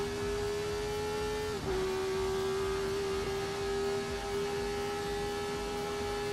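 A race car engine in a sim racing game holds a steady, sustained drone at a nearly constant pitch for several seconds, with a brief dip partway through and only slight variation.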